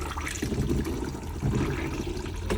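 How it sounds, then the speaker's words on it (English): Flush fluid running into a motorhome cassette toilet after its blue button is pressed, a close gurgling trickle of water with a few louder splashing surges. "you press the blue button just here to get the flush fluid"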